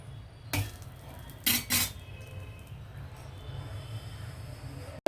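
A plain dosa being flipped on a pan, with a sharp metallic clank of the spatula followed by a short double scrape, over a faint low sizzle.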